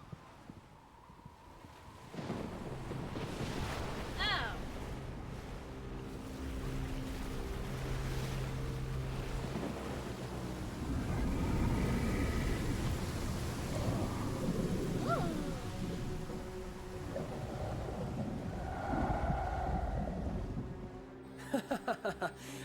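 A sudden storm breaks in the Genshin Impact game world, with a steady wash of wind and crashing waves and low rumbles of thunder, rising toward the end, while someone speaks briefly over it.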